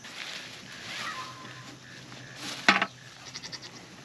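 Goats in a garden greenhouse give a sharp, loud bleat near the end, followed by a few shorter bleats, over soft rustling and a faint background hum.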